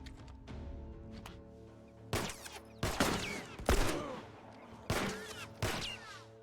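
Gunfire in The Last of Us, a handful of sharp, loud shots spaced a second or so apart over quiet background game sound.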